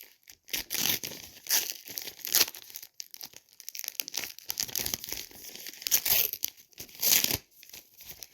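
Crinkling and tearing of a paper-wrapped surprise packet as it is opened, in close, irregular bursts of rustling and ripping with short pauses between them.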